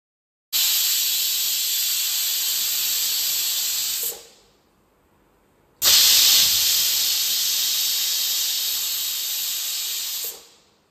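Steam hisses steadily from a pot of prawn biryani in two long, loud bursts of roughly four seconds each, separated by a short pause, with no voices.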